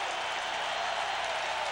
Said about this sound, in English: this crowd at the Carrier Dome just going wild as the Orangemen